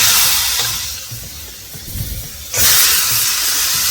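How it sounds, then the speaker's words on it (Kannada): Brinjal and potato drop into a pan of browned frying onions, a loud hiss of oil that dips briefly, then surges back into steady bright sizzling close by. "ನಾನೀಗ ಬದನೆಕಾಯಿ ಮತ್ತು ಆಲೂಗಡ್ಡೆ ಆ್ಯಡ್ ಮಾಡ್ತೀನಿ"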